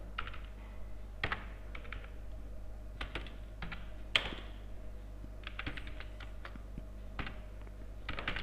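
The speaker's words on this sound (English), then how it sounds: "let us type two lines" Computer keyboard keys are struck in scattered bursts, quick clusters of crisp clicks broken by pauses, with a few heavier single presses, heard close over a steady low electrical hum.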